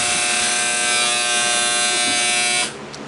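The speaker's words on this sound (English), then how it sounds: "That's my washer." A washing machine running at home gives off a loud, steady, harsh buzzing drone that cuts off abruptly near the end, leaving a quiet hum.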